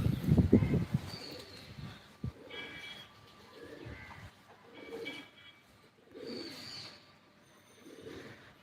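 Homer pigeons give soft, low cooing calls in a steady series of repeated phrases, with a brief rustle near the start, moderately close and without talk.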